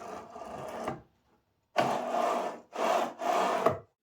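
A machine carriage slides off its ball-bearing rails in a workshop, giving close wooden scraping and rubbing bursts: one long slide, a pause, then three more strokes.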